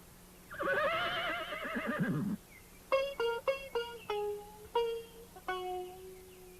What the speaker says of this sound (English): There was only one horse with wings on his back, and his name was Pegasus.